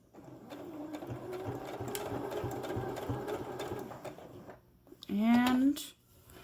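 A sewing machine runs for about four seconds, back stitching a seam on a three-layer fabric face mask with a rapid, steady needle rhythm, close by; it stops and a short voice sound follows.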